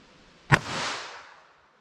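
.22 Magnum handgun fired once into plain clear ballistics gel: a single sharp crack at close range, followed by a short fading echo, with quiet before and after.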